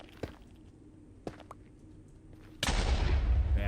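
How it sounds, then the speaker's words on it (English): A bed explodes during bed mining in Minecraft, a sudden loud broadband blast that keeps roaring after a few faint clicks and thuds. "That's a pretty big explosion."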